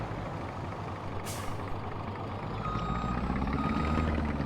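A truck in Farming Simulator 22 backs up with a sharp air-brake hiss, then an engine rumble grows beneath a steady series of reversing beeps.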